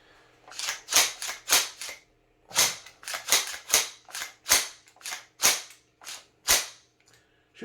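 A gun fires a rapid series of about a dozen sharp, snappy shots in irregular bursts, loud and close, with no talking.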